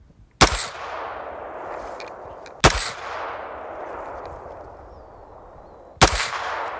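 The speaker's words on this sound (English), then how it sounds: "Now you're gonna have 4 rounds for this string of fire." Gunshots fired at a shooting target on a range: three sharp, loud reports spaced a few seconds apart, each followed by a long fading echo.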